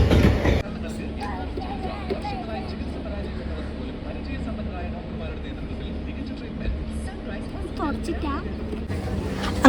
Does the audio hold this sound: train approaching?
yes